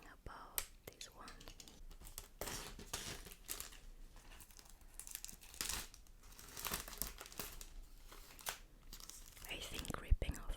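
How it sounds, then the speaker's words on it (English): Plastic wrap being ripped off a Shadowlands Collector's Edition box, close crinkling and tearing bursts that keep breaking off and starting again, with soft whispering in between. "I think ripping off plastic is the most satisfying thing ever."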